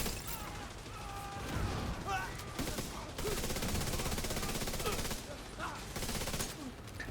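Dense rapid gunfire from a video game battle rattles almost nonstop in loud bursts, with brief lulls and mechanical clatter, while a voice talks over it.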